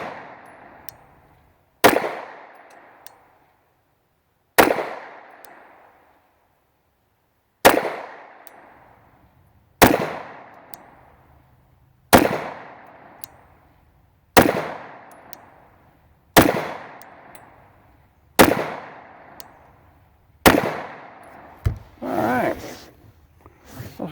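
A Stoeger STR-9C pistol fires about ten sharp, loud single shots at uneven intervals of roughly two seconds, each followed by a short ringing decay outdoors.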